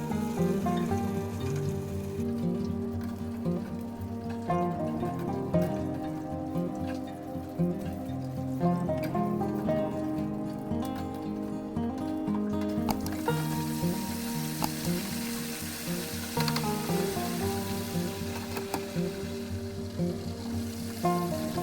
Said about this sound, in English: I'm using a deep fryer, but you can also use a deep frying pan on your stovetop.